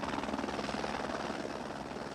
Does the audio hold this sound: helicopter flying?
yes